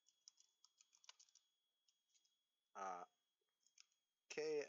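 Computer keyboard keys clicking in short, irregular bursts, quiet and close, with two brief loud voiced sounds breaking in partway through and at the end.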